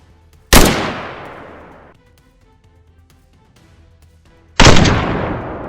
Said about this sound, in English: Bang! One shot, then two, then three.